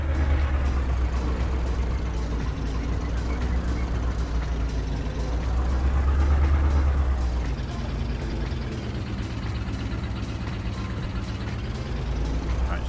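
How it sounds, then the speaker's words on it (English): Farming Simulator 22 tractor engine running as it drives off, a loud low diesel rumble that swells around the middle and then settles into a steadier drone, heard alone. "Give that tractor 10 seconds to get ahead"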